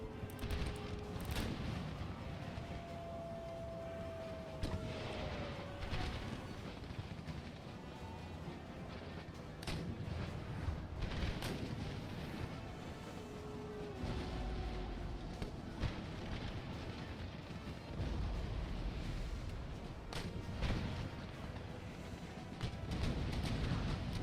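Massed musket volleys crackle across an Empire: Total War battlefield with Polish-Lithuanian line infantry under fire, dense overlapping gunfire bursts and booming rolls sustained throughout at moderate distance, with no voices.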